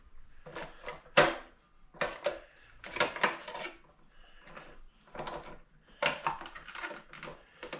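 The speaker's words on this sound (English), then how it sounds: "Pull out our slicer." A series of metallic clanks, knocks and sliding scrapes as a meat slicer is pulled out and set up, irregular close handling thuds spread throughout, no talking.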